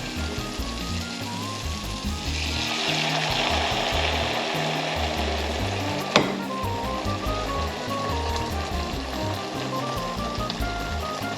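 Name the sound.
boiled rhubarb liquid added into a hot pan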